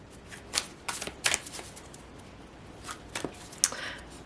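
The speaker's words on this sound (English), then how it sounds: "I'm gonna grab some oracle cards" Oracle cards being shuffled by hand, a few separate crisp riffling bursts with short pauses between them, close and fairly quiet, with no talk.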